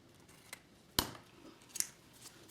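Scissors cutting paper down the center for a gift card folio: a quiet room with a sharp close snip and a couple of lighter snips after it.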